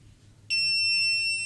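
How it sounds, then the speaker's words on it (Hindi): An Arduino-driven piezo buzzer switches on abruptly and holds a steady, piercing high-pitched electronic tone, loud and close, with no voices. "तो मैं इससे बजर को कंट्रोल कर रहा हूँ"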